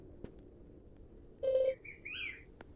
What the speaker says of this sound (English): Big bird.